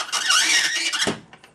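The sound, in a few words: dry ice screaming against metal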